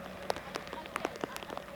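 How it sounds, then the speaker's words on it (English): Rain falling at an autograss race track, scattered drops pattering and tapping on surfaces over a steady wet hiss, close and moderately loud with no talking. "I'm glad I'm sitting in the booth today and not out there in the rain."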